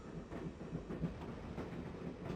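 A train moves along in the video game Broken Sword: Shadow of the Templars, giving a faint, continuous rumble with soft rhythmic clatter, steady and distant, and no voices.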